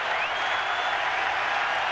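Baseball fans at Fenway Park cheer and applaud for Red Sox pitcher Derek Lowe during an Athletics at Red Sox game, a dense, steady roar of crowd noise filling the whole moment.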